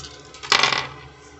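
Dice are rolled for a daily reading, a single short clattering burst that rattles briefly and fades in a quiet room.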